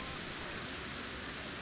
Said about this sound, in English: It's a bit rainy, isn't it?